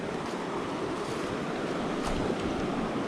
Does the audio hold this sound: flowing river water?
yes